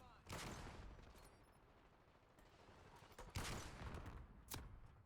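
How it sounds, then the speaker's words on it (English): Gunfire in Black Ops 6 comes as several sharp bursts over a low, rumbling background, loudest near the start and again in the later half, with no talking. "Just gonna fire some bullets in and see what happens."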